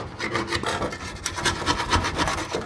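A putty knife scrapes steadily over parts of a Ford C4 automatic transmission during disassembly, a close, rough rasping in repeated strokes with no talking.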